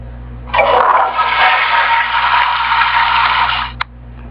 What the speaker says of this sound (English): Flushing it right down the toilet.